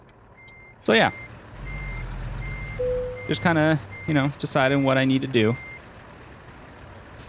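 A truck and trailer in American Truck Simulator is backed into a parallel parking spot as its reversing alarm beeps in a steady, evenly spaced series under a low engine rumble, while someone talks over it.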